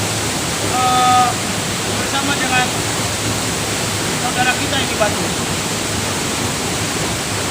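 A steady, full roar of falling water from the Capolaga waterfall fills the scene. Someone talks over it in Indonesian.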